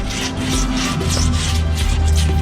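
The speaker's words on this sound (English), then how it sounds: "you can hear this paint residue when I first go over it" A blade rasps steadily across wet glass, scraping off paint residue with a loud, gritty, continuous rubbing close by.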